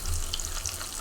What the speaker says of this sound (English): And then you have your fried bacon. I'm frying it in the olive oil,